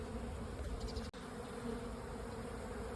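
Steady, dense buzzing of many honey bees at a beehive, a continuous low hum close to the microphone with no talk and one brief dropout midway.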